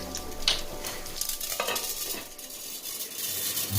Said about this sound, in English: the mustard seeds tend to sputter a lot